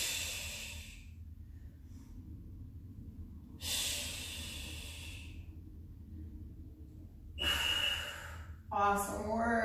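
Sharp, breathy exhales during a workout exercise, a few spaced bursts with quiet gaps between them, close to the mic, followed by a short vocal sound at the end.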